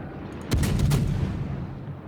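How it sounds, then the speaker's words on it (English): A single heavy boom from destroyer-caliber naval guns in World of Warships, a sharp close blast followed by a rumbling decay over about a second and a half, heard alone. "Remember, these are destroyer caliber guns."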